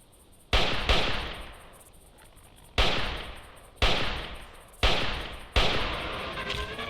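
Rifle shots in the dinosaur-hunting game Carnivores Triassic: five loud, sharp cracks at irregular intervals, each trailing off in a long echoing decay over quiet outdoor ambience.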